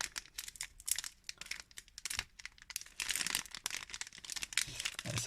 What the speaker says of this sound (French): on va ouvrir le dernier paquet